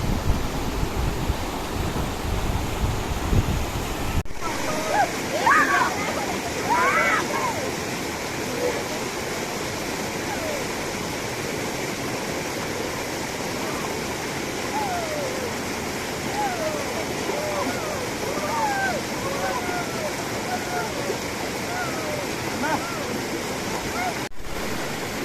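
River water rushes steadily along the Muktikhola river bank near Siliguri, a dense continuous roar with a brief louder burst near the start and a voice murmuring faintly beneath it.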